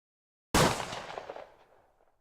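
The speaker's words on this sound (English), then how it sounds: "Kill count number 2 for Pierre as Adger goes down under his rifle shot" A single sharp rifle shot fired at a character named Adger during a game, cracking loudly once and then decaying into a rumbling echo over about two seconds.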